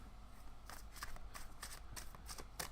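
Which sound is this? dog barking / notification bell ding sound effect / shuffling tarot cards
shuffling tarot cards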